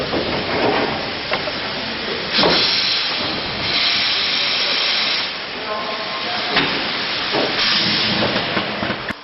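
Steam locomotives being steamed and prepared inside a roundhouse loco shed, giving a steady broad hiss with louder bursts of venting steam throughout, with faint background voices underneath.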